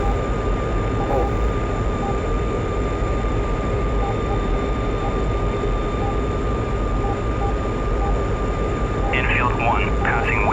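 A MiG-21 jet in flight within a flight-simulation game, its engine a steady, loud, continuous roar with a droning whine holding through the whole stretch, while people talk over it.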